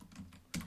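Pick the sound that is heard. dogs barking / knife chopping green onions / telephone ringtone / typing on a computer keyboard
typing on a computer keyboard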